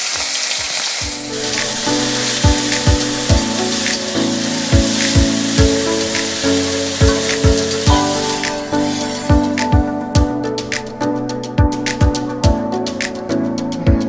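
Chopped onions and cumin seeds frying in mustard oil left from fried fish, a loud continuous close sizzle with regular sharp spatula strikes against the pan, no voices.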